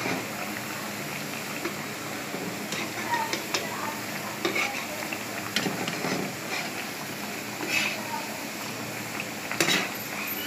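Sweet jaggery tikkis fry in hot oil over low heat with a soft, steady sizzle, broken by scattered clinks and scrapes of a utensil against the pan.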